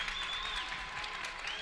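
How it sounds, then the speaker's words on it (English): A home crowd cheers and applauds loudly and steadily at a high school varsity basketball game, Wrightstown against Freedom, late in a close contest, with whistles and shouts rising through the din. "And you can hear the crowd, the Wrightstown crowd fired up."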